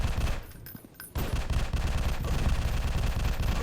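Gunfire in the video game Alien Invasion 2, rapid automatic shots forming a dense, continuous rattle after a brief lull, loud and close.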